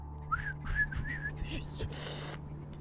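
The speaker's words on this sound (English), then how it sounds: "The man whistles at all your equipment." A man in the post-apocalyptic game Atom RPG gives a short appreciative whistle, three quick rising chirps in a row followed by a softer fading note, quiet over low background hum.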